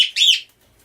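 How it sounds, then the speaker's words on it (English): A single bird in the room gives one bright, loud chirp, a quick rising-then-falling tweet lasting under half a second, with quiet room tone afterward. "I'm going to start calling this bird Tom Siegel."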